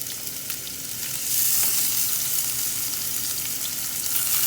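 Raw peeled shrimp fry in heated oil, giving a continuous close sizzle that swells louder partway through and holds steady.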